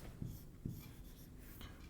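Pen or chalk writing out maths equations, a few soft scratchy strokes with brief taps and pauses, quiet and close in a still room.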